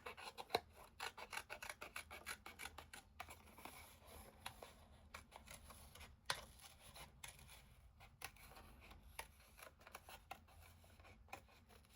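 Scissors snip out a paper stem in quick, irregular cuts that rasp and patter faintly and close by throughout, with no one speaking.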